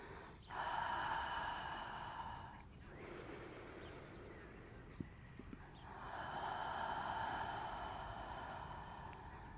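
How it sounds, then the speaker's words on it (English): Slow deliberate breaths during a prenatal yoga session, a long airy inhale followed by a drawn-out exhale and then another long breath, close and soft, with faint background room sound. "So we do the inhale through the nose. And we make the exhale through the mouth."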